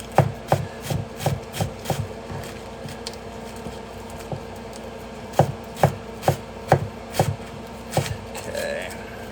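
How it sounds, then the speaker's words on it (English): A knife slices lettuce on a cutting board in steady, close chopping strokes, one quick run of thuds, a short pause, then a second run. "Get this lettuce sliced."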